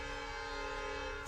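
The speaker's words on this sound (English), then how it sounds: "ooh, that was the train." A train rolls along nearby tracks with a steady, dense rumble and a sustained tonal horn-like whine, faint and continuous throughout with no talking.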